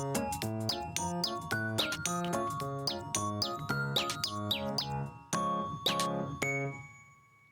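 Cartoonish bird chirps and tweets from the Bits & Bops rhythm video game, bright repeated calls over a bouncy tonal musical backing with a steady beat, loud and close, ending in a brief fade.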